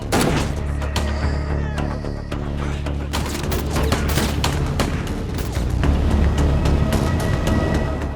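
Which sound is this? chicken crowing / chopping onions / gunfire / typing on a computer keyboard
gunfire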